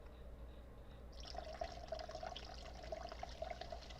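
Vodka poured into a cup, a soft, steady trickle of liquid that begins after a second of near silence and continues faintly to the end, with no voices.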